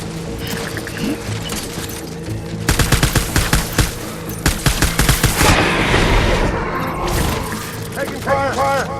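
Rapid bursts of gunfire from the video game Death Stranding crackle in dense volleys through the middle of the clip, loud and close, with mechanical clatter and game sounds around them and voices heard now and then.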